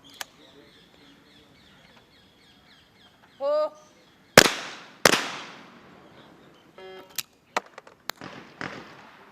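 Shotgun blasts at a trap shooting competition, a few sharp, loud reports spaced seconds apart, each ringing out and decaying, with fainter pops, bird calls and a voice around them.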